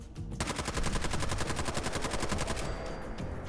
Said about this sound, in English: Which was the perfect place to test out a shiny new AK.